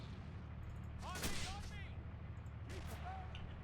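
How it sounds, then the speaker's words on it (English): Distant gunfire in a WWII video game, a few faint cracks and thumps over a constant low rumble of background noise, with whistling projectile sounds in between. "there's someone shooting at us from really far away"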